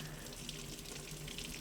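Water pours onto a gutter screen and drains through it, making a steady, close splashing trickle with no talk.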